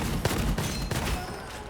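Gunfire in the video game Gunfire Reborn, a quick burst of several booming shots in rapid succession, loud and close, fading into a low rumble.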